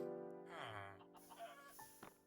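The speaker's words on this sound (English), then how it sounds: "The chicken fell in there." A Minecraft chicken gives a few short, soft clucks amid quiet game sounds, faint and isolated with no talking.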